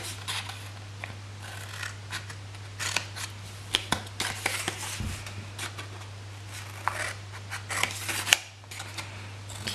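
Scissors snip repeatedly through cardstock, cutting off the corners of a handmade shadow box gift box, with a steady string of small crisp cuts and paper rustles close by in a quiet room under a low electrical hum.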